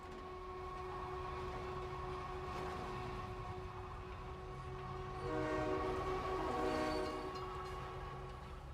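A freight train loading sand rumbles steadily in a video game, with a sustained horn-like tone over a low rolling drone that swells briefly louder toward the end.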